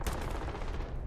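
Rapid gunfire bursts in the video game Starfield, a dense, close, loud volley of shots lasting about a second.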